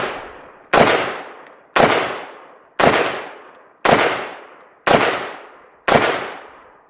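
An IWI Carmel 5.56 rifle fires six loud, sharp single shots at an even pace about one second apart, each crack followed by a decaying echo tail.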